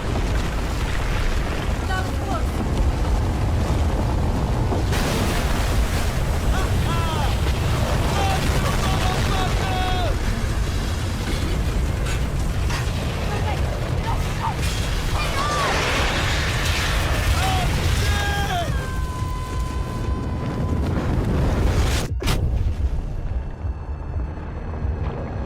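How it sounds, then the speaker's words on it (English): Explosions roar as a dam is blown up in a Battlefield video game, with sustained low rumbling, wind-like roar and bursts across the scene, a sharp blast near the end, and speech over the din. "So you go and blow up a dam."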